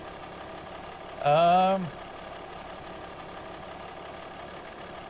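A farm tractor idling as a steady, low, even engine drone throughout, with a brief hesitant voice sounding once over it.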